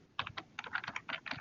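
Quick bursts of keystrokes on a computer keyboard as a meeting name is typed, close and crisp, several clustered taps in an irregular rhythm with no voices.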